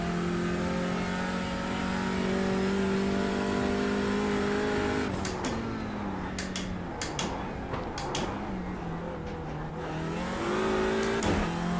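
A race car engine in a sim racing video game drones loud and steady at high revs, then drops and climbs again through a string of quick gear changes, with no voices over it.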